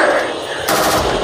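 Sniper fire in a video game: a loud, close, rapid burst of gunfire, with a second sharp report about halfway through, dense and continuous across the short stretch.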